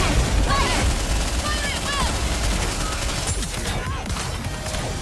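Steady, dense gunfire from the mobile game Goddess of Victory: NIKKE rattles continuously over game music and effects, loud and unbroken throughout.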